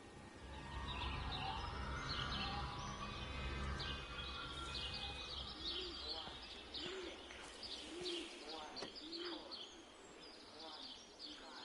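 Birds coo, chirp and call in the video game Everybody's Gone to the Rapture, soft overlapping cooing and tweets over a quiet ambient bed, faint overall.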